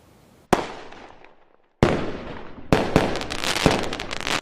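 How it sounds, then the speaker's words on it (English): Fireworks and firecrackers, knockouts set off for Christmas and New Year in Nigeria, crack in a string of loud sharp bangs. Each blast trails off in a crackling decay, then later bursts pile up into rapid overlapping pops. "the loud sounds of fireworks and knockouts have become a familiar way of celebrating Christmas and ushering in the new year"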